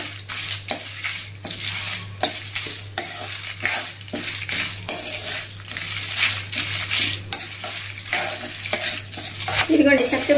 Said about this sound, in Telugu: ఇదిగోండి జీలకర్ర, అలాగే నువ్వులు కూడా వేసేసి లైట్గా వేగించాలన్నమాట